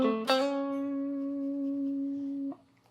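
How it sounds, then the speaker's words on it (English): A single guitar note on the 6th fret of the G string, picked after a brief slide-in and then sustained cleanly with gentle vibrato for about two seconds before being damped. "we're going to apply vibrato and really let this 6th fret G string ring out"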